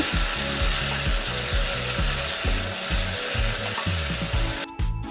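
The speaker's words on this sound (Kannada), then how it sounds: "ಉಪ್ಪು ಮಿಶ್ರಿತ ನೀರನ್ನು ಆ್ಯಡ್ ಮಾಡಿದ ನಂತರ ಸಂಪೂರ್ಣವಾಗಿ ಅದರಲ್ಲಿ ಬಂದಿರುವಂತಹ ಬಬಲ್ಸ್ ಸ್ಟಾಪ್ ಆಗುವವರೆಗೆ ನೀವು ಫ್ರೈ ಮಾಡ್ಕೊಳ್ಬೇಕು." Banana chips deep-fry in oil with a loud, close, continuous bubbling sizzle, punctuated by repeated scraping stirs of a utensil in the pan.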